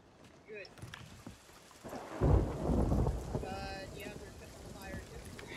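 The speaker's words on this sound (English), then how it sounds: "No, it's in a storm right now," Thunderstorm with rain in the pirate game Sea of Thieves: a low rumble of thunder swells in the middle and fades, over a steady wash of rain and wind around the ship, with some game sounds on top.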